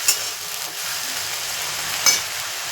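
Onions sizzling steadily in a pan for chicken kosha, with a continuous frying hiss and two sharp clinks of a utensil against the pan, heard alone without talk.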